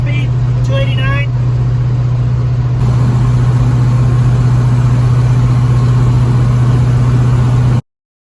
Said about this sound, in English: Just picked it up, 1967 Fastback. It's kind of loud, but driving her home,